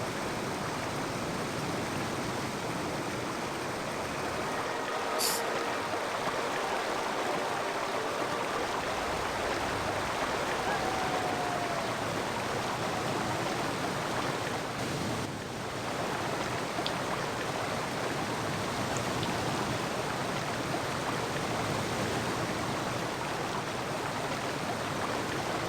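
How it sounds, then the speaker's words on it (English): A waterfall in the Indiana Jones and the Infernal Machine video game, heard as a dense, unbroken roar of rushing water that holds steady throughout. "there's always a secret of the waterfall"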